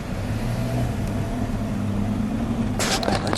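A 1936 Chrysler Airflow Eight two-door coupe drives along, its engine a steady low hum heard from inside the cabin, with a brief rattle or clatter near the end.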